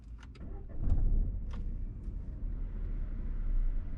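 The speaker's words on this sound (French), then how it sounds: "Je vais démarrer la voiture." A parked car's engine turns over and settles into a low, steady idle in an exam centre car park in Saint-Germain-en-Laye, heard from inside the cabin with a few faint clicks at the start.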